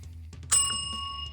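A bright bell ding rings out once with a lingering metallic tail, like a notification chime, over a faint low hum.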